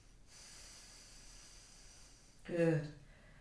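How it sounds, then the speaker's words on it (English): Deep breathing during a vinyasa yoga flow: a quiet, steady airy hiss of inhalation, then a louder nasal exhale with a brief voiced sound near the end. "Breathing deeply."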